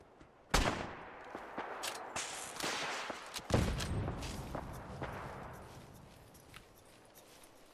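Rifle shots ring out in Fallout 4 during the Varmint Rifle quest, sharp broadband cracks at about 0.5 and 3.5 seconds plus several lighter reports and scattered impacts, each decaying into a noisy tail.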